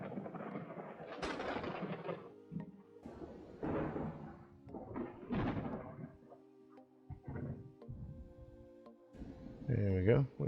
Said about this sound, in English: That lightning is cracking